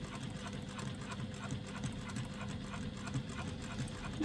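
A sewing machine runs at a steady, even speed while stitching a retro clutch strap, giving a continuous low mechanical hum with a faint rhythmic patter throughout, fairly close and moderately quiet.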